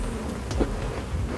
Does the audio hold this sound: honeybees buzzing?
yes